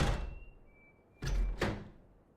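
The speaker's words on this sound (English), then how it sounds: "after it opened the door, it made like another little click" A door opening in the game DayZ, heard as a soft, close creak with a faint sustained whine, followed by two sharp clicking thuds about a third of a second apart.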